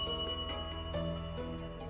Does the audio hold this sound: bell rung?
yes